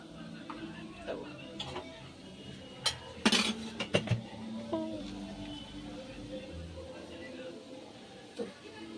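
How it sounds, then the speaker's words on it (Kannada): Pans and utensils clink and scrape while egg bhurji is cooked in a home kitchen, with scattered metallic knocks and a brief cluster of sharp clatters, under a woman's speech in Kannada. "ಇಲ್ಲಿ ನೋಡ್ರಿ ಎಗ್ ಬುರ್ಜಿ ಮಾಡ್ಲತ್ತೀನಿ ನಾನು."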